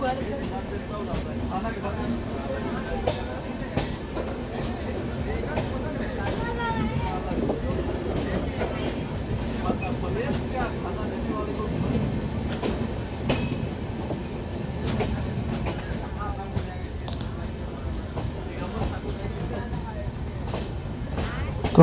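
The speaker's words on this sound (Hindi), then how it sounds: "अब यहाँ पर दोनों ट्रेनों को एक साथ दोनों विपरीत दिशा में बढ़ाया जाएगा" A passenger train on the Ayodhya–Varanasi route pulls out of Khetasarai station on a single line, with a steady rumble and rhythmic wheel clatter under someone talking throughout.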